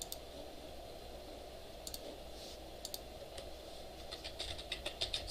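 Typing a select statement on a computer keyboard, with a few scattered soft key clicks that speed up into a quicker cluster near the end, faint and close over a quiet hiss, with no talk.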